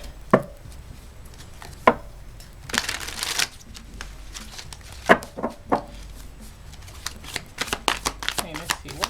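Oracle cards from the My Healthy Heart Enchanted Beauty Monster deck are shuffled, with several quick riffling bursts and taps separated by pauses, under quiet talk.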